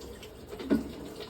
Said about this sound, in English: We're going to add some water.